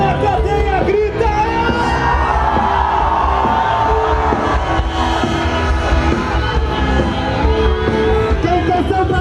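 A large political rally crowd shouts and cheers loudly and continuously, a dense roar of many voices with whoops and bellows rising and holding throughout.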